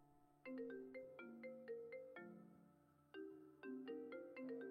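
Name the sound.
phone ringing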